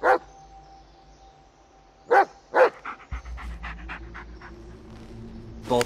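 A dog in a video game pants in short, breathy bursts, a few louder huffs followed by a rapid run of panting, close and clear against a low ambient hum.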